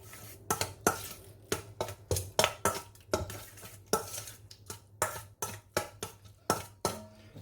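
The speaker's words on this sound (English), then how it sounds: "Give that a good mix." Vegan chilli is stirred in a pot after chili flakes, salt and pepper go in. A spoon clinks and scrapes against the pot in a quick, irregular rhythm, close and steady, with no talking.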